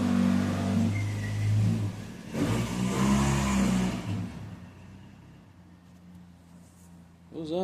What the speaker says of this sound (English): he's doing donuts back here